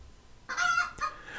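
A chicken clucking and crowing in a short burst of cries from a web soundboard, loud and close with no talk.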